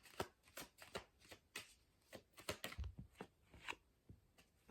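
A deck of tarot cards being shuffled by hand, a quick run of crisp riffling flutters and taps in an uneven rhythm, close and fairly quiet, with no talk.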